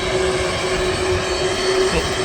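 Singapore Airlines Airbus A350 airliner at Manchester Airport, a steady loud engine roar with a sustained whine, heard alone without talk.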